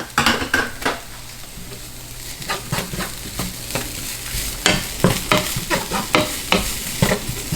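A spoon scrapes and stirs plant-based bolognese ingredients with wilting spinach in a pan, giving repeated clattering strokes over a steady sizzle that grow a little stronger near the end.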